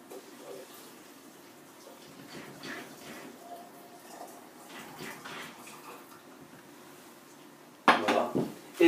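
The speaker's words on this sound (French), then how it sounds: "Et vous n'avez plus qu'à remuer." A spoon stirs mint tea with sugar in a teapot, giving soft, irregular clinks and faint liquid swirling, then a louder burst of clatter near the end.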